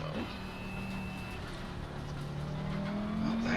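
Race cars from a racing video game at the Imola circuit: engines whine and rev with rising and falling pitch, a tire squeal is heard, and a commentator talks over the moderately loud engine noise.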